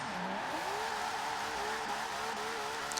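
A car drifting in Forza Horizon 4 with a clutch kick, the engine holding a steady high-revving tone with tire squeal throughout, continuous and close, with no one talking.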